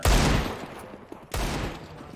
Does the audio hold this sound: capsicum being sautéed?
no